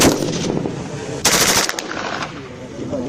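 Test firing of KCR 556 and KMR 762 rifles at a weapons demonstration range: rapid bursts of automatic gunfire, loud and sharp, including a strong close burst over a noisy outdoor background.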